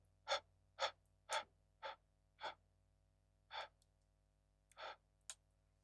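About eight soft breath intakes come at an irregular pace, each a short airy gasp close to a vocal mic, kept quiet by a noise gate over a low steady hum.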